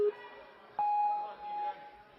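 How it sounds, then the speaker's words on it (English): Competition timer at a kids' Premier Series obstacle event: a short low beep, then a longer, higher electronic start tone, then a second tone, over faint arena murmur. "As the timer begins ticking"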